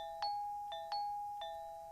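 Doorbell in a video game, two ding-dong chimes in a row, clear tones ringing on, fairly soft with no voices.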